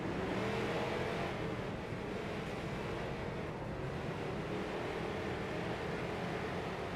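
Race car engines in a sim racing game on a figure-8 track, IROC series, drone steadily at high revs. The pitch wavers as the cars pass, blending into a continuous wash of engine noise with no speech.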